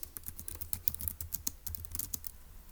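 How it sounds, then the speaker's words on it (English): Steady clattering of keys on a computer keyboard as notes are typed up during a Turing Machine logic puzzle, a quick uneven rhythm of close, crisp clicks with no voices. "So let's go ahead and type that up in our notes in section E."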